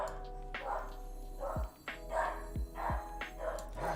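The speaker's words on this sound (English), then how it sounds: "Dude, my dog is barking so much." A dog barks repeatedly, sharp clear yaps in an irregular run, somewhat distant and fairly quiet against a low steady hum.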